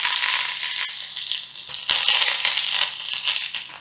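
Sliced green chilli and curry leaves are dropped into hot oil with mustard seeds. The oil sizzles and crackles loudly and steadily, with a brief burst of spattering partway through and no voices.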